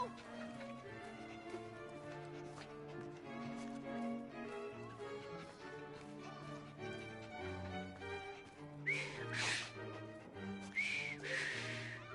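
A character whistles a tune in the Victorian London of Assassin's Creed Syndicate, with bright whistled notes mixed over game music and ambience and occasional clip-clop of horses nearby.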